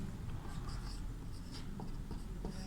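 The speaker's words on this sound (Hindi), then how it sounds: "तो यहाँ पे पहला हम लोग लिखेंगे पठ धातु" Chalk or marker writing on a classroom board during a Sanskrit lesson, producing faint scratchy strokes in short bursts over a steady low room hum.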